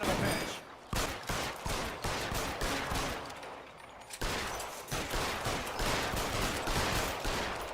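Sustained gunfire at a fleeing suspect in the crime video game L.A. Noire, rapid loud overlapping shots forming a dense barrage for several seconds with a couple of brief gaps.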